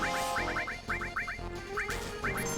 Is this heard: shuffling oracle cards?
no